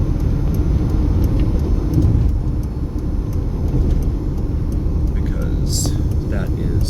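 A car pulls onto the interstate outside Las Vegas, Nevada, its steady road rumble and tyre noise filling the whole stretch at a constant close level, with a faint murmur of voice underneath.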